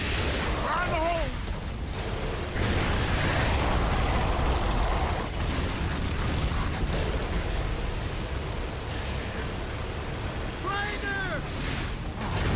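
A grenade blast in Gears of War 3 booms amid loud battlefield noise, with shouting voices and a rumbling roar lasting throughout.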